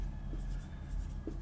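Marker or chalk scratching across a classroom board, steady scraping strokes with a few brief squeaks, close and alone without talk.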